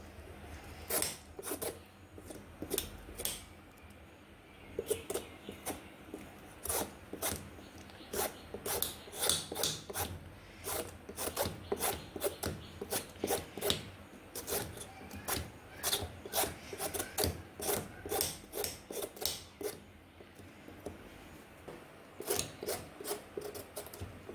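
Knife peeling the skin off a bottle gourd, a long series of close, rhythmic rasping scrapes, some quick runs and some spaced strokes, with short pauses between.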